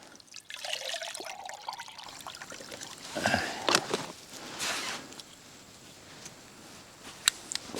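Water trickles and pours for brewing coffee at a freezing winter camp, a faint close dribble and splash with light clinks and handling noises, fairly quiet, no talk.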